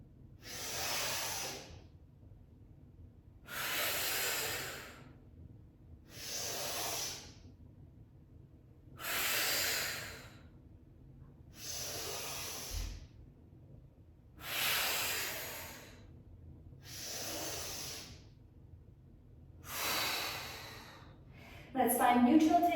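Slow, even Pilates breathing fills the mat session, with about eight long airy breaths in a steady rhythm, each close and moderately loud, separated by quiet pauses.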